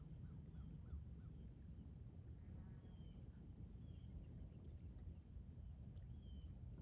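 Faint crows cawing in short repeated calls over a steady low rumble and hiss, distant and quiet, with no talk.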